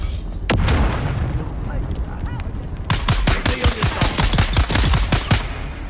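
Grenade blasts and rapid gunfire in the Dune Awakening video game: a heavy boom early on, then a quick run of sharp, loud cracks and bursts clustered close together.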